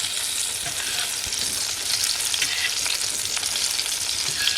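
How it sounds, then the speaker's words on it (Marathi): Khadas fish, fried plain in a pan without any semolina coating in a Konkan home kitchen, gives off a loud, steady, dense sizzling hiss that runs throughout and grows slightly stronger partway through. "असे रवा किंवा काहीच न लावता जरी मच्छी फ्राय केली ना तरी मस्त लागते"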